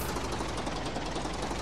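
A tractor engine in the farming video game Professional Farmer 2014 drones steadily with a rapid, buzzy mechanical chug, close and constant, with no voices.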